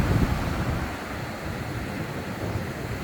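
Surf washing onto a beach in Varadero, Cuba, a steady broadband rush of waves with wind buffeting the microphone, continuous and fairly close, with no one talking.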